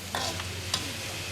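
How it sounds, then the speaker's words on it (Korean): Meat stir-frying in plenty of oil for a spicy Sichuan-style dish, with a steady sizzle, a few sharp scrapes and clanks of the spatula or wok, and no talking. "속을 든든하게 해줄 고기를 기름에 볶는 것을 기본으로 하는데"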